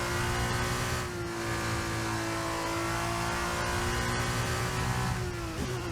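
An F2 race car in the F1 22 video game drives with its engine holding a steady high whine, then climbing in pitch near the end, over a constant loud drone with faint tyre noise.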